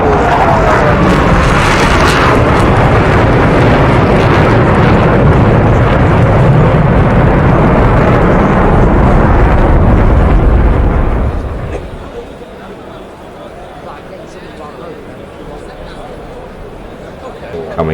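F/A-18C fighter jet banking hard and pulling up in high-G manoeuvres, a loud sustained roar that drops suddenly to a quieter rumble near the end, with talk over it.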